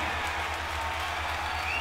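A room of people cheering and clapping at a rocket booster separation, a dense steady roar of applause and voices close up, with a low rhythmic hum beneath.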